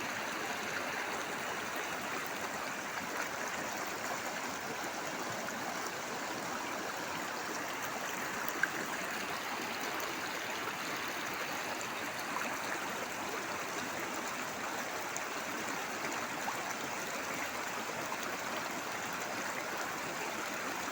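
Steady broadband rush of a stream flowing continuously, a constant even wash of water with no talk over it.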